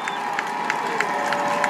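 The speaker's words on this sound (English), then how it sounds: "The crowd on this near side getting excited." A football crowd on the near side of a high school game cheers with a low, steady roar and scattered claps, heard at a distance under faint voices.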